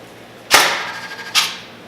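Airsoft gun bolt snapping forward as the trigger is pulled with the safety on: a sharp mechanical click followed by a fading metallic ring, then a second softer click about a second later, close up with no talking.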